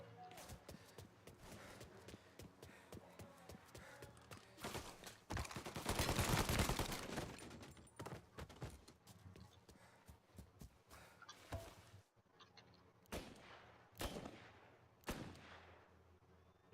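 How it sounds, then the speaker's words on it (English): Sniper and rifle shots in the video game Mafia Definitive Edition, a run of sharp, separate cracks with echoing tails spread through the clip, plus a louder sustained burst in the middle, heard against quiet game ambience. "Parece tiro de sniper."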